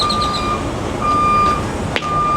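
Truck reversing beeps at a Pilot truck stop: steady evenly spaced electronic tones over a rumbling idling-engine background, with a brief sharp clatter near the end.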